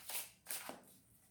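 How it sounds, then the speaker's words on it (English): A deck of tarot cards being quickly shuffled in two short riffling bursts, crisp papery fluttering close by, followed by a quiet tail with no talking. "I'm going to just quickly kind of shuffle"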